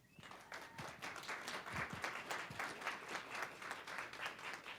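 An audience applauds to welcome speaker Obasi Shah, a steady wash of many hands clapping in a hall, sustained and even throughout at moderate, somewhat distant level.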